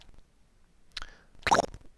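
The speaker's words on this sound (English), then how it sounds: "when he squishes right at the end" A cartoon squish effect in a Flash animatic lands as a short wet plop near the end, preceded by a fainter smear of sound.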